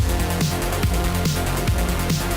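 A driving EDM track from the action video game Furi plays loud and continuous, with a pulsing synth bass and steady beat and no voices.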